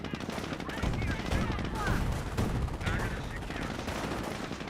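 Squads trading continuous rifle and machine-gun fire in the Company of Heroes real-time strategy game, a dense, steady rattle of gunfire with scattered bursts filling the whole stretch.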